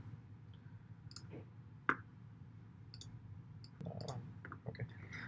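Computer mouse clicking in a quiet room, a few faint, sharp, scattered clicks over a low background hum.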